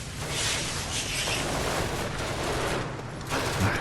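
Sustained turret gunfire from the Genesis Alpha One video game, a dense, continuous volley of rapid shots with crackling bursts holding at steady loudness throughout, with no voices over it.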